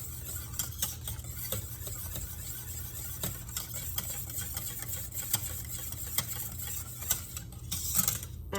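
A spoon stirring thickening banana cream pie custard in a pot: faint soft scraping and light rhythmic taps of the utensil against the metal pot, repeating steadily at a calm pace with low background hum.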